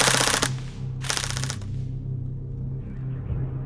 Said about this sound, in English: Equally satisfying it's fully automatic fire.